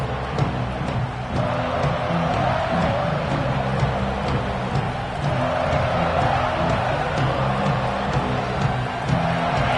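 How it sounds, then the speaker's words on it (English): Stadium crowd at an NCAA college football game gives a sustained, distant roar and cheer, a steady wash of many voices without any clear talk. "This crowd ready to make its presence known."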